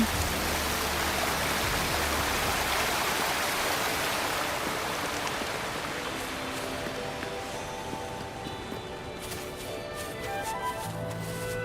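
Steady, broadband rushing water of a waterfall on a mountain path, continuous and fairly loud throughout with no voices.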